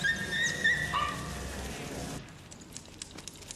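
A dog whimpers and yips in a film scene, a few high whining cries over low background rumble, then the sound drops away into quieter ambience.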